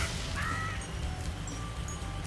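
Crows caw a few times in a speedrun video game, short harsh calls over a steady low ambient background.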